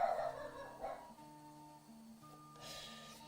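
A dog barking from another room, a few muffled, distant woofs and yips at the start, then faint whimpering noises amid a quiet indoor background.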